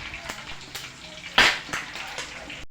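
Pork hock being lowered into hot oil to deep fry as crispy pata, with a bubbling sizzle that swells into a sudden loud crackling burst midway and then settles into a steadier frying hiss.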